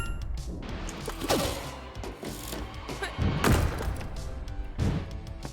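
A poster being destroyed in the video game Knuckle Jet: repeated heavy thuds and crashing impacts break through a dense, busy game mix of music and effects, with several loud hits spread across the stretch.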